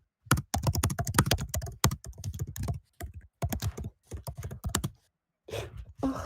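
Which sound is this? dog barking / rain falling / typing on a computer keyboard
typing on a computer keyboard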